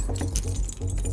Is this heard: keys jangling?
yes